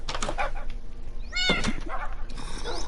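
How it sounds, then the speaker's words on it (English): A cat in Minecraft gives a short, rising meow midway, heard among soft game ambience and brief thuds, fairly quiet and without talk. "There's a cat in here"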